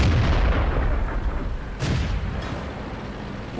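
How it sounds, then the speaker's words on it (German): Tank explosions in World of Tanks boom in a heavy, rumbling burst followed by another sharp blast, loud and dense with no talk over them. "Oh, da explodieren so einfach eine nach dem anderen."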